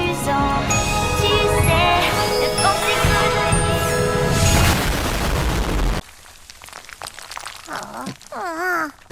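A cartoon explosion blows apart an audition hall in the animated series LoliRock, heard as a loud, dense burst of booming and crashing with music, then a sudden drop to quieter sound effects and voices.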